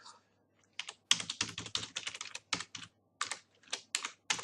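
Keys clatter on a computer keyboard in quick bursts of clicks with short pauses, close and fairly quiet, with no talking over it.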